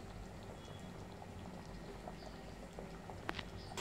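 Mutton curry in a pot simmers with its water cooking down, a low bubbling patter that runs steadily throughout, faint and close, with a small knock near the end.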